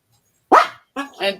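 Dogs bark in short, sharp bursts close by: one loud bark, a pause, then two quicker barks in succession, against a quiet background.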